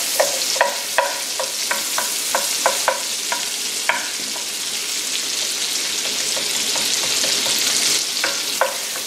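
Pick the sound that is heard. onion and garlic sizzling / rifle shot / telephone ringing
onion and garlic sizzling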